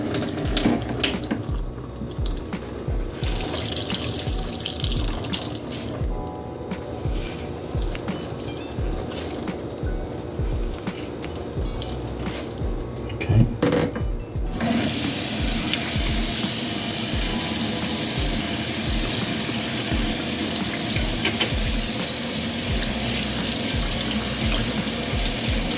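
Hot water runs from a kitchen tap during dishwashing, a loud, continuous close-up rush with splashing against dishes. Partway through the flow suddenly grows heavier and steadier.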